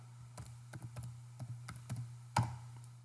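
Someone types a spreadsheet label on a computer keyboard, a short run of about ten crisp, irregular key taps in a quiet room, the last one noticeably harder.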